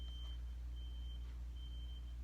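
A fire alarm gives thin, high beeps that repeat at intervals, fairly faint and distant, over a loud constant low rumble.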